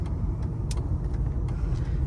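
A late 80s or 90s Mercedes car drives onto the highway with a steady, loud low engine drone and road rumble, continuous throughout with no talk.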